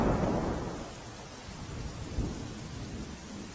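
Heavy monsoon rain falls in Patan district, a dense, loud wash of rain with a deep rumble of thunder at the start that fades into the steady downpour.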